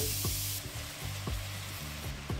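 Jaggery drops into a hot kadai on a stove and sets off a soft, steady sizzle, with a few light scrapes or stirs at regular intervals and no voices.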